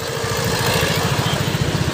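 A motorcycle carrying a family of riders putters along with a steady, throbbing low engine beat, close and constant, with wind noise over it.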